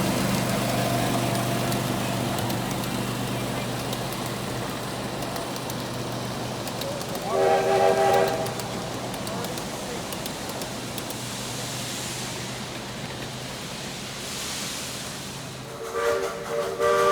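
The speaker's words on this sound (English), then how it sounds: "I headed back to the tracks to catch the Wabash Heritage Unit following the Pennsy one." The Wabash Heritage Unit diesel locomotive rumbles steadily past at a steam and power show, its horn sounding in two short blasts, one near the middle and another near the end, over continuous engine and wheel noise.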